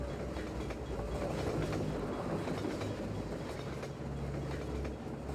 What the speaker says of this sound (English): All right, train.